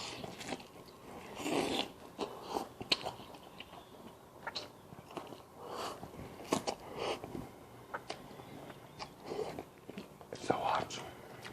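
Soft, close chewing and biting of hot cup ramen noodles, scattered in irregular wet clicks beneath a steady whisper.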